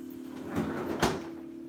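A kitchen island drawer pulled open and pushed shut, two soft wooden knocks about half a second apart over a steady low hum, close by.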